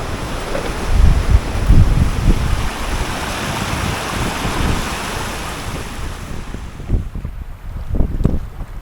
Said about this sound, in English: This wind is pretty stiff when we're going into it.